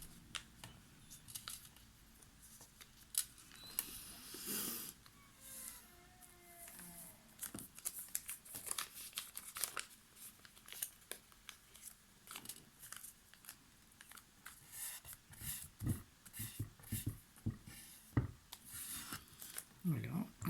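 Paper being folded and creased by hand for a flower-wrapping pouch, giving soft rustles and crisp scraping strokes, close up and fairly quiet, with intermittent talk over it.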